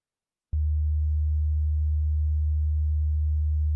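After half a second of silence, a deep 76 Hz sine tone from a tone generator switches on abruptly with a faint click and holds steady and unwavering to the end.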